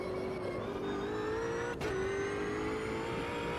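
Race car engine in the Automobilista 2 racing video game, a steady close high-revving whine that rises slowly in pitch, broken by a brief dip like a quick gear change.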